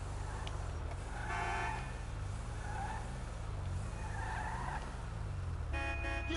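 Car driving in the video game GTA V Online on PS4, with a steady engine drone and tire noise throughout and a skid-like squeal rising near the end.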